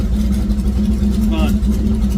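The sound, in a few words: car engine on dyno during nitrous pass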